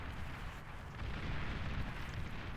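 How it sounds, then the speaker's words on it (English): Nuke launch in the strategy game Beyond All Reason, a loud, sustained low rumbling roar that fills the whole stretch without clear breaks. "MBT gonna fire off a second nuke immediately"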